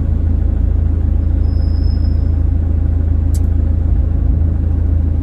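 Steady low rumble of road traffic with vehicles pulling out and passing close by, loud and continuous with no clear breaks, plus a brief high squeak partway through.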